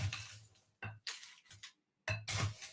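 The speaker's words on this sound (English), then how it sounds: "And then you got to fill this thing up with lots of crushed ice." Crushed ice scooped into a metal mint julep cup, a few separate bursts of crunchy rattling and clinking with short quiet gaps between, fairly close and soft.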